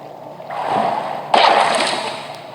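A paddle wheel with something stuck in it, in the game Bendy and the Ink Machine, churns up water in two swelling, splashy surges, the second sharper and louder, close and alone.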